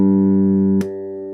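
A Peavey T-40 bass plays a single sustained open G note with the pickups wired out of phase, giving a thin, nasal tone; a sharp click cuts in near the end and the note drops slightly in level afterward.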